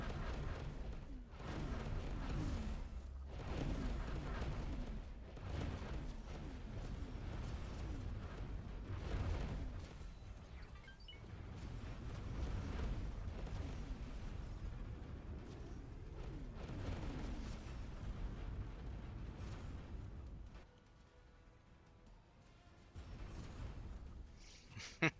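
Heavy spaceship weapons fire and rolling explosions from a large ship battling near a Xenon station in the space game X4 form a continuous low, booming barrage with repeated blasts, dipping briefly near the end, and no voices.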